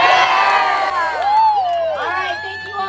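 A rally crowd cheers loudly, a dense wash of shouts, whoops and high children's cries swelling and overlapping across the whole stretch with no single voice standing out.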